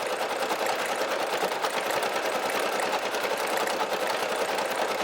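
A Brother SE1900 embroidery machine stitches an Easter basket design with a rapid, steady mechanical chatter and whirr, close and continuous throughout, without speech.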